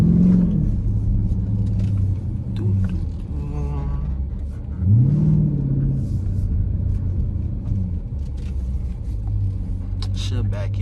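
Steady low rumble of a brand new Dodge Durango SRT engine while driving in heavy traffic, continuous throughout with slight swells, with a voice talking over it.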